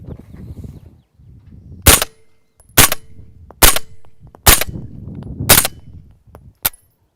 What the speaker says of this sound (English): we're gonna run a couple rounds with this, see how the sound suppression is